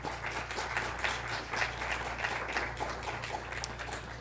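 A lecture audience applauding to welcome a professor, steady dense clapping from many hands across a hall, moderately loud and continuous throughout, with no talk over it.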